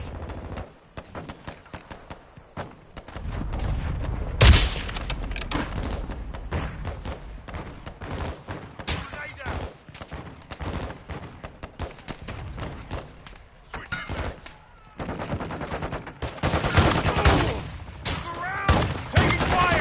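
Gunfire in the video game Modern Warfare 2, a long stretch of repeated shots and bursts with heavy thuds and explosions, dense and irregular, some blasts near and loud, others more distant.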